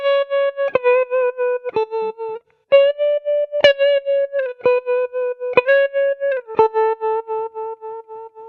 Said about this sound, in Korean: 이렇게 앰프에 있는 트레몰로를 있는 듯 없는 듯 살짝 걸어주면 감정을 건드릴 수 있는 울렁거리는 느낌을 줄 수 있습니다